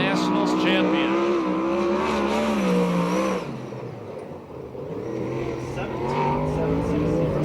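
USAC/CRA sprint car engine roaring around the Perris, California speedway oval, loud revving with pitch sweeps as the car accelerates, dipping briefly midway then building again, with a commentator talking over it.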